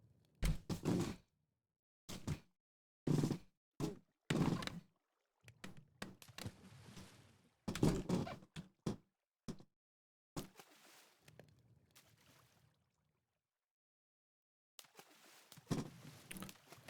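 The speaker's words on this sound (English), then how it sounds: "Because the piston's firing over and over." Repeated mechanical thunks from Minecraft pistons firing over and over in a redstone chain on a hardcore survival world, coming in irregular bursts of clacking pulses with short silent gaps between them.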